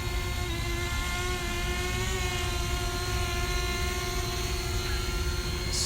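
A drone hovers and comes in to land, its loud, close, steady high-pitched rotor whine droning on unbroken with no voices.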